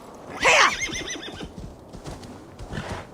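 A horse in the video game Assassin's Creed Valhalla gives a loud, close whinny with a rising then falling cry, followed by softer snorts and a few hoof clops trailing off.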